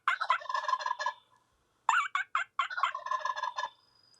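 A person imitates a turkey gobble with a voice, a rapid warbling burst, a short pause, then several choppy gobbling bursts, loud and close with no other sound.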